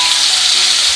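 Chopped tomatoes sautéing in a pan over the stove, giving a loud, continuous, even sizzle with no voices.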